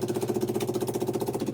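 A 32 gallon per hour fuel transfer pump aboard the 1928 classic yacht Euphemia runs close by with a rapid, even ticking pulse over a steady mechanical hum.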